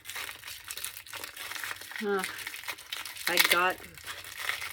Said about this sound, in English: I did forget to get out the washi tape